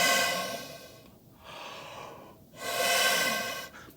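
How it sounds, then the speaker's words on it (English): Breath drawn in and blown out hard through a short open length of trumpet tubing, two long airy rushes separated by a brief pause, close and unobstructed. "So you take a breath in and you blow out."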